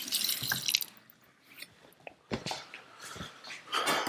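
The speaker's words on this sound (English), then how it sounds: "Wash my hands." Hands washed at a kitchen sink while cooking, with intermittent running tap water splashes and rubbing that start and stop in short bursts, fairly close and quiet, with no talking.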